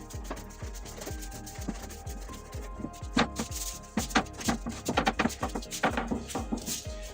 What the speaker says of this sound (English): we're going to knock it back, which is basically knead it for another 30 seconds or so